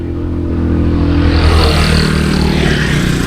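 A car labours up a steep hill road, its engine droning loud and close with a low, heavy rumble that rises slightly in pitch as it strains, steady for a few seconds.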